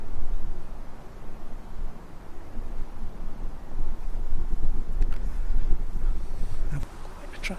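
Gusty wind buffets the microphone at an allotment, a continuous rumbling roar that swells and eases, with brief faint knocks near the end.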